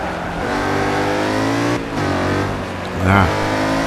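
Car engine revving loudly in Forza 5, harmonic revs climbing in pitch several times with brief shifts and a sharp final rev burst, close and upfront.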